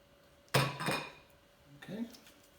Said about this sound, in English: Move this bowl out of my way.